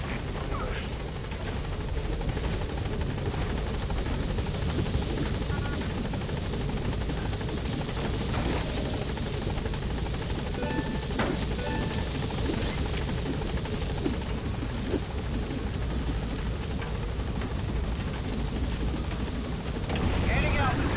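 Steady, loud rotor roar of a helicopter hovering near a landing zone in Metal Gear Solid V, a dense continuous wash with radio-style voices over it.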